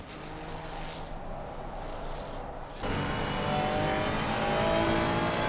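Race car in a racing video game sweeping through the S-curves at Suzuka, a steady engine drone that shifts to a fuller, rising tone partway through and holds, continuous and fairly loud, no talk.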